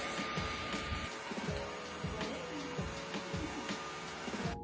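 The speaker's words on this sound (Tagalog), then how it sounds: "Ito nga pala is cordless na wet and dry vacuum cleaner." A cordless wet and dry vacuum cleaner runs continuously while sucking up spilled soy sauce, a steady whining motor with rhythmic low thumps underneath, close by and moderately quiet.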